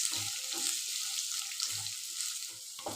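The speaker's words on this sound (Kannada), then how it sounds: "ಇವಾಗ ಈರುಳ್ಳಿ ಮತ್ತು ಕ್ಯಾಪ್ಸಿಕಮ್ನ ಫ್ರೈ ಮಾಡ್ಕೋಬೇಕು" Onions and capsicum fry in a pan for capsicum rice, a steady broad sizzle with faint scraping stir strokes underneath, close and even throughout, no voices.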